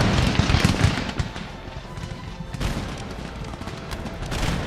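Musket volleys from massed soldiers in Empire: Total War, a continuous crackling fusillade of overlapping shots near and far, with sharper bursts swelling now and then over a dense battlefield rumble.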